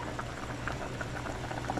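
Water at a steady rolling boil in a pot holding four pieces of fish, with a dense bubbling patter that carries on evenly throughout.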